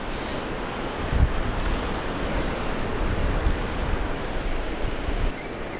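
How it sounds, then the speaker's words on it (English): Cold wind blows steadily across a fishing beach, a dense, constant roar buffeting close to the microphone, with surf mixed in and a couple of faint knocks. "Blue sky, very cold wind."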